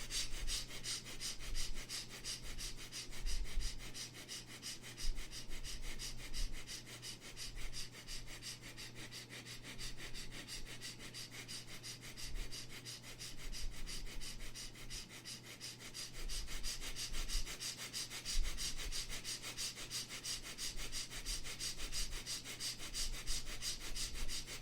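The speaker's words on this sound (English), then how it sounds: "Playful, still quick, still short breath." A person does a yoga breathing exercise, taking rapid, short, rhythmic breaths through the nose, close and continuous with sniff-like pulses and no talking throughout.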